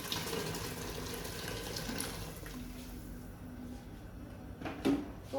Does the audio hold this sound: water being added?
yes